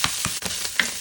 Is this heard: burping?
no